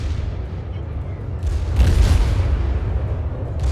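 A World of Warships warship firing its secondary guns, heard as deep booming blasts and rumbling bursts that grow heavier midway through.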